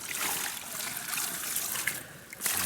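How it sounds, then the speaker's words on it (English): Water poured at a fishing lake peg, a steady trickling and splashing stream that runs continuously for a few seconds, moderately close, with a brief louder gush near the end. "I'll give him a bit more water."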